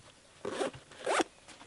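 Zipper on an airsoft kit bag pulled in two quick, close strokes, each a short rasping burst with a pause between, alone with no talk.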